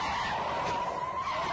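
A car's tires skid and squeal on a road in one steady, loud screech lasting under two seconds, heard alone without voices, as a story sound effect just before the car strikes a pedestrian.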